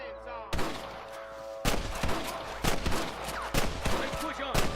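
Rapid bursts of gunfire in the Western video game Red Dead Redemption, loud and close, several broadband volleys spaced about a second apart over a constant background, with brief voices between them.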